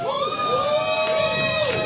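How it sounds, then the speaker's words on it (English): A comedy club audience in Lafayette, Louisiana cheers and whoops, a loud sustained crowd roar with shrill voices and whistles riding on top, steady from start to finish. "You don't have to cheer."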